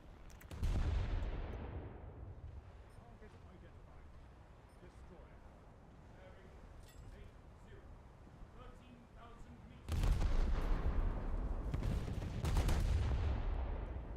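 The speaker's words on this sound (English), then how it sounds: "Who's shooting at me?" Heavy naval guns in War Thunder fire in booming salvos, one big blast near the start and another burst of deep thuds and rumbling later, with a quieter stretch of low rumble between.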